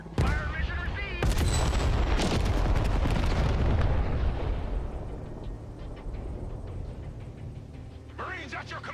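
Artillery fire mission explosions in the video game Broken Arrow come as heavy, booming blasts and sharp cracks, loud and rolling for several seconds before fading into a lower rumble, with brief voice chatter at the start and end.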